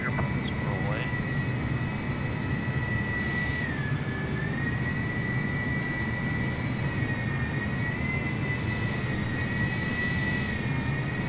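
Jet airliner taxiing in at Boeing Field in a flight simulator, a steady loud engine whine and rumble holding throughout with a sustained high tone, voices faintly present underneath.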